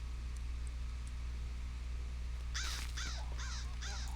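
A pet crow in the video game LOTRO gives four rough caws in quick succession near the end, over a steady low background hum.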